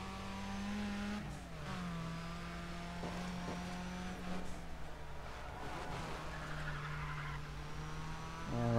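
A car engine in Need for Speed ProStreet drift races holds a steady droning rev that dips and shifts pitch as it changes gear, rising sharply near the end, loud and continuous with no talk.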